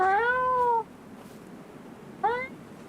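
Lulu, a pet cat, gives two clear meows close by, a longer one first and a shorter one after a pause, with quiet room tone between.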